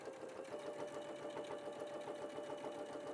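Sewing machine stitching a pocket onto a garment, running steadily at an even pace with a continuous rapid whirring and needle clatter throughout, close and alone.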